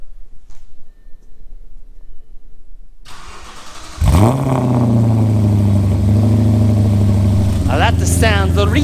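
A car engine starts cold after a few seconds of quiet background: the starter cranks briefly, the engine catches and settles into a loud, steady idle, then revs once near the end.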